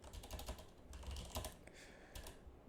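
Light typing on a computer keyboard in an operating-system demo, a quick run of soft close-up key clicks, quiet and alone for a few seconds.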